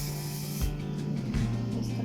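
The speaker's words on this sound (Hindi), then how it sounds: "और अब इसके ऊपर स्प्रे करते हैं" Hairspray hisses onto a princess-style wedding hairstyle in a steady, close burst of about half a second, followed after a short pause by a fainter, longer stretch of spraying.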